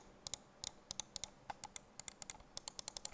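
Gaming mouse buttons clicked repeatedly, a steady run of about two dozen sharp, close, dry ticks with uneven spacing that speeds up toward the end, heard alone.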